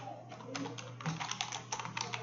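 Fast, light clicking of keys on a computer keyboard while a medical record is typed up during an outpatient consultation, a steady quiet patter of keystrokes close by over a low electrical hum.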